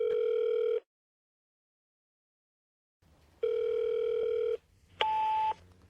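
Ringback tone of an unanswered telephone call, a steady purring tone that sounds for under a second, stops for a long silence, returns for about a second, then gives way to a brief higher two-tone beep.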